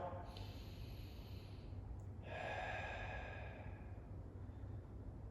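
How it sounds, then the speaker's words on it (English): Slow diaphragmatic breaths, drawn in through the nose and released through the mouth, rise and fade as soft airy rushes over a steady low hum during a beginner cat-stretch shoulder exercise. "I want you to focus on breathing diaphragmatically. In through the nose and out through the mouth."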